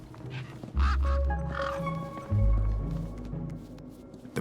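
Large desert birds in the video game Beyond a Steel Sky squawking, loud, harsh, nasal honking calls in two strong bursts over low game ambience, with no talking.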